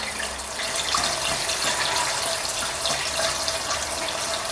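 Water pours steadily into the radiator of a 1944 Ford 2N tractor, a continuous close trickling and splashing that holds even throughout with no talk.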